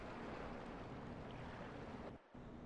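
Rushing water surging steadily after being released in the video game Dark Souls, a dense, constant roar that briefly dips near the end.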